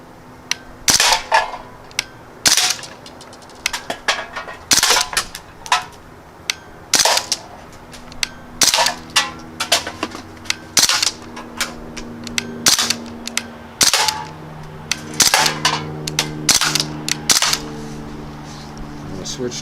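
A Crosman Panther Arms DPMS BB rifle fired semi-auto at cans, sharp single snapping shots at irregular intervals with occasional metallic pings and some talk in between.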